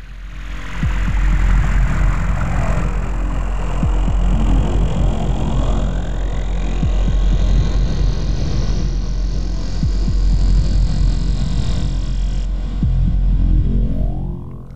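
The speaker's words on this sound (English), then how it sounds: "Let's change the dry wet aeration, add some reverb, touch more feedback, and let's listen." A single low F0 note on a LayR performance synth, run through delay with added reverb and extra feedback, throbs as a loud, sustained drone while sweeping tones rise and fall through repeating echoes for about fourteen seconds, with no talking.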